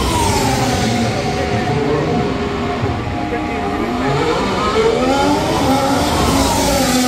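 Formula 1 cars roar past at the Monza circuit during a Grand Prix, a loud continuous engine howl with rising and falling pitch sweeps, crowd or nearby voices mixed under the steady din.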